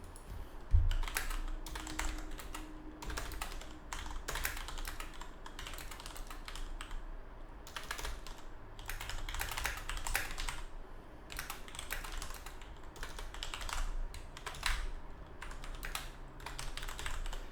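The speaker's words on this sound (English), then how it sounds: "Here, I'll just type it." Fast typing on a computer keyboard, with irregular bursts of sharp key clicks and clacks close up, pausing briefly between flurries, alone without speech.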